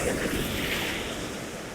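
Sea waves break and wash up a beach on the coast, a steady, fairly loud rushing surf that fills the whole stretch, with some wind noise mixed in.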